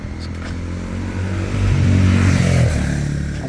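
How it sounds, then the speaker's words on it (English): A Honda enduro motorcycle riding past on a city street in the Sukhumvit Soi 36 area of Bangkok, its engine note swelling louder as it nears and then easing away. "A Honda or whatever? Yeah, nice Enduro"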